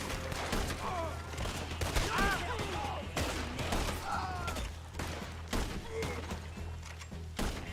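Rapid volleys of gunfire from a Red Dead Redemption 2 shootout crack in dense bursts over a steady low hum, with scattered vocal yelps and in-game sounds woven between the shots throughout.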